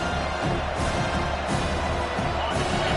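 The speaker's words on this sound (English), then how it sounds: "This crowd trying to make life miserable for this offense." Football stadium crowd roars steadily through a college game, a dense wall of cheering and noise with no letup, loud and close.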